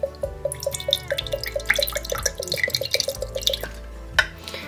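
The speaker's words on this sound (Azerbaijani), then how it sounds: "Həmin suyu boşaldıram bir stakana." Coconut water drains from a pierced coconut into a glass in a quick run of close, rhythmic drips and trickles that speed up and then taper off near the end.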